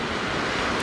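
Surf breaks on a beach during shark fishing from the shore. It is a steady, broadband roar of waves with wind buffeting the microphone, close and loud, and no voices are heard.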